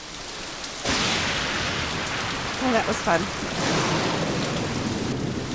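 Steady heavy rain with a low rumble of thunder in the Nancy Drew game Message in a Haunted Mansion, set in stormy San Francisco; the downpour swells in abruptly and continues under a brief spoken remark.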